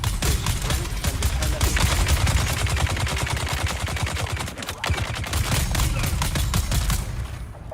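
Dense, rapid gunfire from a Dune video game battle at a defended front gate, continuous bursts of crackling shots layered over one another for several seconds, loud and close.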